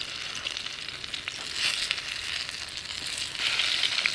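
Pumpkin saltfish fritters sizzle steadily in hot oil in a pan, a continuous bright crackle that swells a little louder partway through and again near the end, with no talking.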